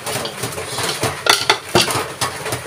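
Utensil clinking and scraping in a pot while stirring a maja blanca mixture, several sharp metallic taps over a soft continuous swishing, close and fairly loud.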